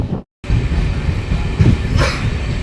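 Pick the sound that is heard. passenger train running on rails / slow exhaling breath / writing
passenger train running on rails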